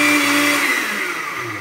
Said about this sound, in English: I'm going to go ahead and blend up the rest of this mixture